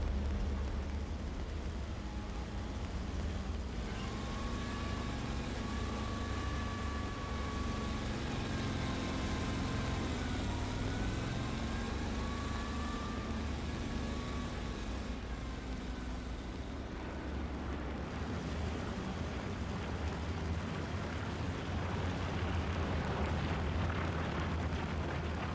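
Tank in the video game Hell Let Loose, a loud continuous rumbling engine drone with heavy low-end roar and a wavering mechanical whine rising and falling over it, steady throughout with no talk.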